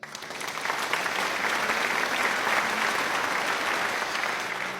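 Steady applause from a church congregation during Mass, many hands clapping continuously at a constant level, fading slightly at the end.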